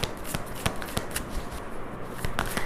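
Tarot cards being shuffled for a reading give a rapid series of crisp riffling snaps and flicks, close and clear, in uneven bursts with no talking.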